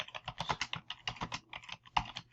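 Rapid, uneven keystrokes on a computer keyboard, close and clear, with short pauses between bursts of typing, as if entering a name.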